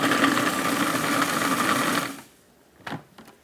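A blender whirs loudly as it breaks down dates for a chocolate ganache cheesecake, running steadily for about two seconds, then stopping, followed by a couple of short clunks.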